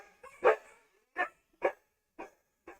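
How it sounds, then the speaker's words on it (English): Dogs bark in five separate, widely spaced barks, one loud and the rest a little softer, at middle distance with nothing else going on between them. "the dogs are super annoyed about this"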